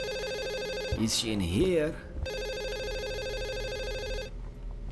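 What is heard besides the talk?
telephone ringing in a horror video game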